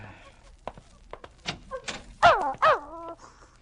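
A dog in a vintage horror radio drama whimpers and gives a couple of short, close barks after some faint thumps and scuffling, with no talk over it.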